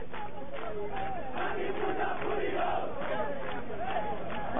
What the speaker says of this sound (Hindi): जमकर नारेबाजी की जा रही है, हंगामा किया जा रहा है वहां पर